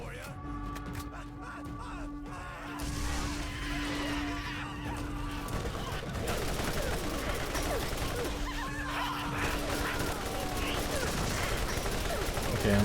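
Sustained gunfire rattles on continuously through a chaotic Borderlands fight, loud and dense under excited voices, with scattered sharp shots and game effects throughout.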